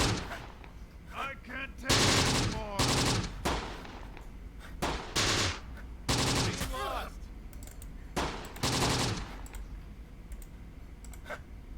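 A .30 cal machine gun in the WWII strategy game Close Combat: The Bloody First fires repeated sharp bursts of gunfire with crackling clicks between them, fairly loud and fairly close.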